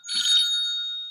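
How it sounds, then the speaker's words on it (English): A phone rings with a single bright electronic trill, loud and close, fading out over about a second with no voices. "someone's ringing me"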